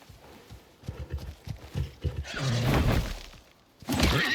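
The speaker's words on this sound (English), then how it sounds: "is that a horse? It is a horse." A horse in the survival video game Icarus, with several soft hoof clip-clops followed by a loud, close whinny, then a second burst of snorting neigh, no talking heard.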